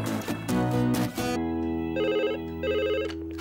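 A telephone rings with a bright bell-like warble, a loud burst of rings after a brief rush of sound, followed by two more clear ringing phrases.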